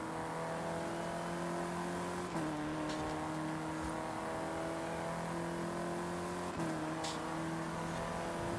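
A car driving in Forza Horizon 5, its engine droning steadily and close, with two brief gear-change dips and a few faint clicks over the top, and no talk.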